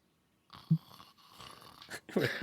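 A person imitates snoring with a few breathy, rasping snorts that rise and fall, growing louder toward the end, heard close up against near silence.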